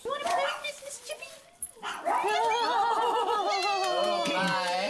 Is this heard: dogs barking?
yes